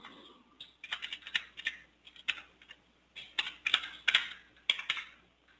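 A computer keyboard is typed on in short bursts of crisp, close clicks with brief pauses between the runs, as a name is entered. Nothing else is heard beyond faint room quiet.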